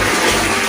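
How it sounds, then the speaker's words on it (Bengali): Water gushes steadily from a tap after the supply returns, a continuous close broadband rush with no pauses and no voices. "ফাইনালি আমাদের জল চলে এসেছে"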